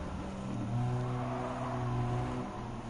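A racing car fitted with a semi-racing muffler in Gran Turismo 7 holds a steady, loud engine drone, with pitch rising and falling through gear changes, close and continuous for the whole stretch.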